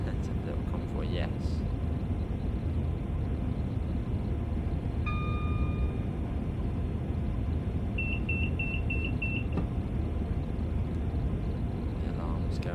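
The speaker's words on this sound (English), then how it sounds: "The alarm's going off." A train cab alarm sounds in Train Sim World 5 on the West Coast Main Line, a steady tone followed later by a run of rapid repeated beeps, heard over constant low engine rumble with talk in the background.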